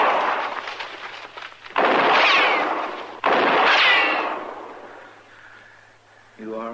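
Two loud gunshot blasts in a Western radio drama, each a sharp crack that booms and rolls away for about a second, separated by a short gap, with a rumbling background before them and a brief voice at the end.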